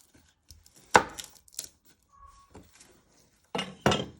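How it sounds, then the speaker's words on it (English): A kitchen knife chops the ends off garlic on a board: a few sharp, separate knocks spread out with quiet gaps between them, close and fairly soft, with no talking. "You first want to chop your garlic. So what you do is you chop your ends off your garlic."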